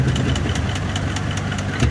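An old farm engine, started with help from a belt-driven Moline tractor, runs steadily at close range with a loud, continuous idle and a rapid knocking beat.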